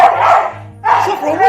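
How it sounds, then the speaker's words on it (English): Saffron the dog barks at a doll, two loud close bursts of barking with a brief gap between them, nearby and alone. "their dog Saffron immediately ran up to it and started barking"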